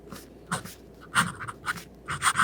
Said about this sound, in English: The next writing sample is done in a composition lab notebook.